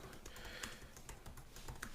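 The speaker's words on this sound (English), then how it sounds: "Sorry if you can all hear my typing in the background." Steady typing on a computer keyboard, a quick run of light clicking keystrokes at close range, low in level with no speech.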